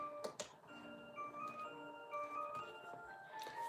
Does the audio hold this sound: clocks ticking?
yes